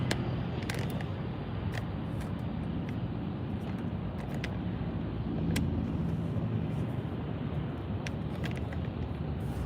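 Steady road traffic with cars passing, a continuous low rumble of engines and tyres that swells briefly mid-way, heard from fairly close with a few sharp transient clicks on top.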